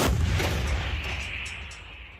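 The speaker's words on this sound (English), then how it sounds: "The gun fires." A single heavy blast from a Bohdana self-propelled artillery gun firing a combat shot, loud and close, with a long rumbling echo that trails away across open ground.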